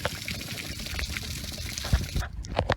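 Water gushes out of the drain of an RV water heater tank in a steady, close, splashing pour that cuts off abruptly near the end, followed by a few drips.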